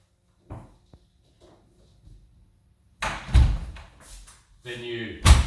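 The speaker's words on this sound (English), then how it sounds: "Then you close your door" An interior door is swung shut with a solid thud, close by, among a few softer knocks and handling sounds, while someone talks around it.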